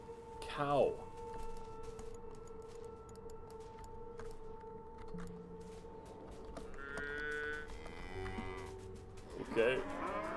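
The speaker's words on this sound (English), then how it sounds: "Cow." A cow moos loudly in a long drawn call with rising pitch, set against a steady hum and ambient noise, with brief speech-like sounds near the end.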